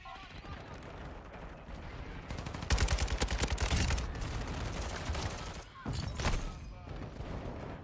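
Shotgun fire in a first-person video game, a mix of loud close blasts bunched into a heavy burst near the middle with more scattered shots around it, over a bed of game noise, while a voice talks at times.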